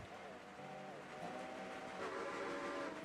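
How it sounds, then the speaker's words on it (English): Train in the BRWR railroad video game, a steady rumbling run with whistle-like tonal lines drifting across it, fairly close and continuous, with voices talking over it. "I'm being chased by another train."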